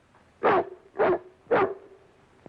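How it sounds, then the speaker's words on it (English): Three sharp dog barks, evenly spaced about half a second apart, close and loud, with a low hum between them. "Throw the dog out, Charlie."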